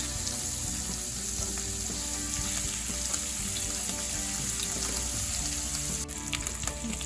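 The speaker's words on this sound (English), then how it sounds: "now let's get some good popping noises going on" Food frying in a pan with fat, a loud continuous sizzle dotted with small pops and crackles, close and steady throughout, no talking.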